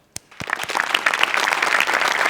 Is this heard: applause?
yes